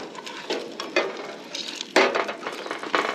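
A grilled ham, tomato and cheese sandwich sizzles in butter in a pan, with soft irregular crackles and a few clinks of a utensil, close and fairly quiet.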